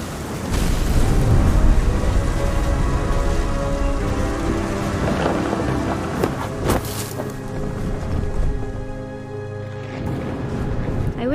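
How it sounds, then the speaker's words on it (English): Heavy rain pours steadily in a thunderstorm in the video game What Remains of Edith Finch, with low rumbling thunder rolling through the dense, loud downpour. "The thunder sounded much too close and full of angry power."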